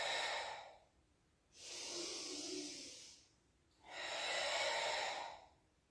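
Breath sounds during a Pilates exercise: two long, steady, airy breaths of about two seconds each, close and clear with silence between them and no talking.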